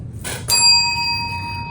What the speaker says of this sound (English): You rang the bell.